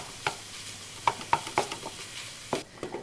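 Italian sausage browning in a pan, broken up with a handheld chopper: a soft sizzle runs beneath a series of distinct scraping and tapping strokes, several spaced strokes close together, with no talking.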